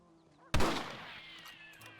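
A single loud rifle shot in the video game Red Dead Redemption, a sharp crack followed by a long echoing decay, with faint background tones.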